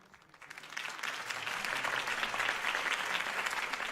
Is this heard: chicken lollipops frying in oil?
no